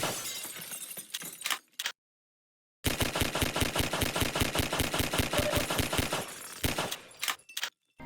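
Glass windows shattering in a Source engine game, heard as a burst of breaking, a short silence, then a long rapid series of sharp, evenly spaced crashes and tinkling shards, closing with a few scattered breaks.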